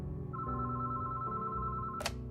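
A telephone rings with a steady electronic warble that holds for about two seconds, loud and close, then ends in a brief bright burst of noise.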